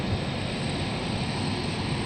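A cargo aircraft taxis past at Memphis airport, its engine a steady, loud broadband roar that holds constant throughout, with no voices.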